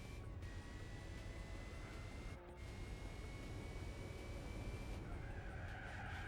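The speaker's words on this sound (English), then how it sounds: "Whoa, small drift" A car in Gran Turismo 4 drifts briefly with a thin tire skid layered over a steady engine drone, fairly quiet and continuous with a short break midway.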